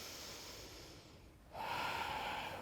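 A deep breath taken during a yoga flow, a soft, airy inhale that dips to near quiet before a fuller, breathy exhale swells up, close and gentle with no speech.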